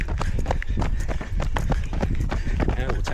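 Running footsteps pound in a quick, steady rhythm during an easy 10k morning run, close and fairly loud, with a person talking over the strides.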